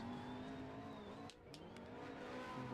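Race car sliding through a drift during a GTI Patriot GP event in SLC, a steady engine drone with tire noise held under it, briefly dipping mid-way before swelling back.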